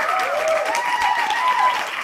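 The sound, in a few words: audience applauding two contest winners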